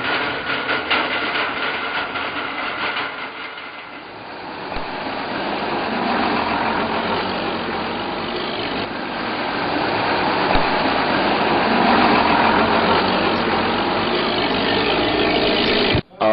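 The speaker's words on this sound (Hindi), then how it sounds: "उरी और पुंछ के रास्ते ट्रकों की आवाजाही होती है" Truck engines idle and rumble steadily along the Uri–Poonch cross-border trade route in Kashmir, a continuous mid-pitched drone that dips briefly, then builds again and holds, close and unbroken.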